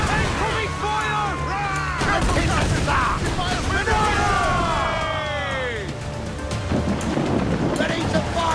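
Naval cannon fire in Assassin's Creed Black Flag booms amid a dense, loud sea battle mix of crashing waves and shouting crew voices that run continuously over the whole stretch.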